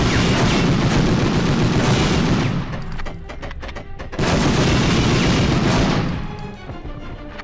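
Machine gun fire in Medal of Honor, two long loud bursts of rapid rattling shots, each lasting a couple of seconds, separated and followed by quieter crackling echoes.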